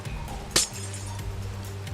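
One short, bright glassy clink as a glass block is placed in the game, standing out alone above a quiet, low background hum.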